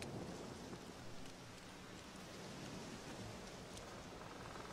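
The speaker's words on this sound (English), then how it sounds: "Wedding in a storm." Steady heavy rain hisses through a stormy night in The Witcher 3 during an outdoor wedding, with a low thunder rumble rolling underneath and no voices, a dense unbroken wash of sound.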